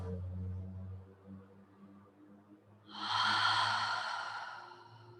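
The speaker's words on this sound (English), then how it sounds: "Maybe breathing out through the mouth." A long, soft breath pushed out through the mouth during a slow restorative stretching session, a close airy exhale that swells and fades after quiet breathing.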